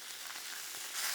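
Thick steaks sizzle and crackle on a hot Blackstone griddle as they are flipped, a bright, hissing fry that swells slightly louder at the end.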